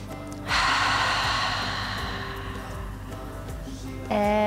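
Deep yoga breathing outdoors, one long audible breath that starts sharply, holds steady and fades, followed by the start of another breath near the end.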